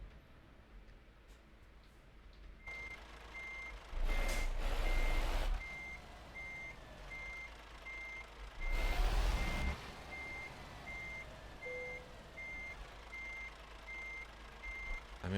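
Steady electronic reversing beeps from a truck in Euro Truck Simulator 2 repeat at an even pace throughout, joined by two louder bursts of engine and air noise.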